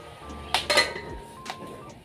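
A cooking pot gets covered with its metal lid, giving a couple of close clinks and clatters of metal on metal, followed by a softer knock, over a quiet kitchen background.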